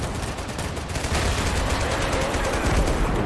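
A tank in the war game Total Conflict: Resistance fires repeatedly into a forest, heard as dense, continuous rattling gunfire and blasts at steady high loudness, with voices faintly mixed in.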